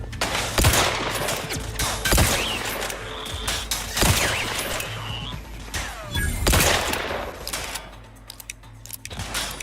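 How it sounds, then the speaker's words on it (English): A heavy shotgun fires in The Outer Worlds 2 video game, with four loud booming blasts several seconds apart, separated by clicking reload and handling sounds and some game effects. "This has got a massive shotgun"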